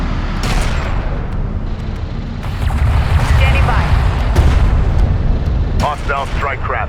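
Turret gunfire and explosions in the video game Homeworld: Deserts of Kharak, heard as a loud, continuous battle rumble with repeated booms and sharp bursts, under radio chatter and voices.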